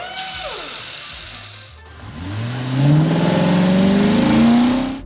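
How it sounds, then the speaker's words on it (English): Lego animation race car engine for an F1 car, a tonal whine that drops then rises steadily in pitch as the engine revs up, loud and close with no talk. "He even learns to drive F1 cars and joins professional races."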